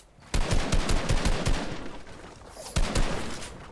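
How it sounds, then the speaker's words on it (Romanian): Video game gunfire in a live-streamed shooter, with a rapid burst of repeated loud shots followed after a short gap by another quick volley, close and punchy. "O împușcătură norocoasă"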